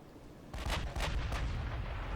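Heavy naval guns firing in Ultimate Admiral Dreadnoughts with an H Class battleship in the fight: after a quiet start, three or four deep booming salvos land in quick succession, each rolling into a loud, sustained rumble.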